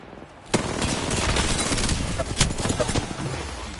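A player's own weapon firing in a shooter video game: a loud, steady stream of rapid shots that starts abruptly and keeps going, with a couple of sharper cracks standing out.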